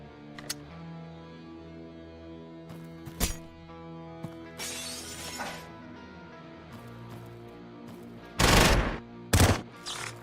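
Gunfire in the video game Quasimorph, with scattered single shots and then two loud, harsh bursts near the end, set against a droning game soundtrack and no talking.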